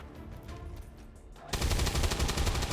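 Gunfire in XCOM 2, a loud sustained burst of rapid automatic shots that starts suddenly after a quieter lead-in, close and without talk.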